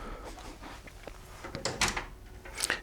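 A wooden cabin door aboard a 40 m schooner sailing yacht opens, a few soft knocks and a light latch click and creak, close and quiet, with no talking.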